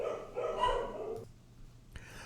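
A neighbor's dog barking, muffled and somewhat distant, in a short run of barks that fade into quiet, followed by a faint knock.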